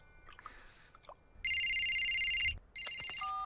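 A cartoon telephone in Ben and Holly's Little Kingdom rings in two loud, electronic trilling bursts, close and clear over a quiet background.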